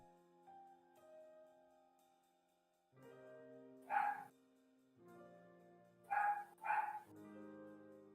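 A pet dog barks indoors, a few short yips and barks coming in a single note and then a quick pair, heard at a moderate distance over soft background music.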